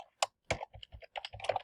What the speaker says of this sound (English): you can just start typing